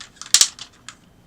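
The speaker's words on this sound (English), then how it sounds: "They're ratcheted, they do go forward a click" The ratcheted 45-degree knee of a transforming Hello Carbot SantaFe Ace toy robot clicks close by in a quick burst of sharp plastic ticks, two louder snaps among several lighter ones, with no talk.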